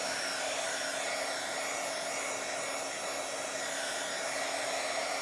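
A hair dryer blows steadily over a Bible journal page in one continuous, loud, even whoosh with a faint tonal whine and no talking.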